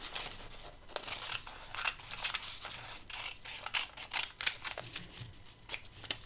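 Scissors cut paper while making an art journal with homemade gesso, a run of crisp snips and rustling slices in irregular bursts, close and fairly quiet, with no talking.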